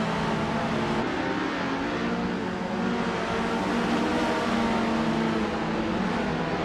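A vintage Chevrolet Camaro races in a driving game, its engine droning steadily at high revs with a clear tonal hum, loud and continuous, with a slight shift in pitch around the one-second mark.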